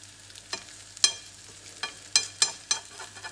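Grated potatoes fry quietly in a 28 cm pan, a faint sizzle broken by several sharp scraping and tapping sounds as the edges are pushed in with a utensil.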